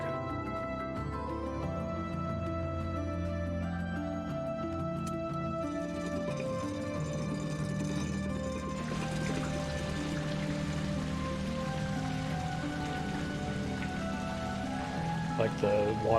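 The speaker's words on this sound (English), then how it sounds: "Drain the water in the aqueducts." Water running and pattering as aqueducts drain in Monster Sanctuary, a steady rain-like wash with game music under it and a person speaking over the top.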